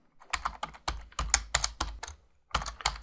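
Bursts of close, crisp computer keyboard typing as Pascal code is entered, quick clusters of key clicks separated by short pauses.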